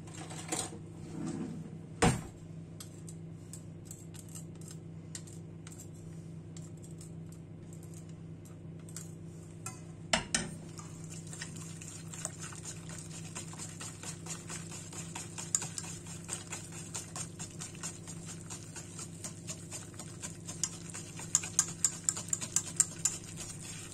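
A hand whisk beating dessert batter in a bowl: faint, sparse metallic clicks and taps that grow denser and sharper toward the end, with no talking.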